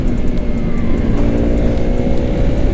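Motorcycle engine held at steady high revs through clutchless upshifts while racing, a continuous loud close-up drone with faint periodic ticks as each gear changes.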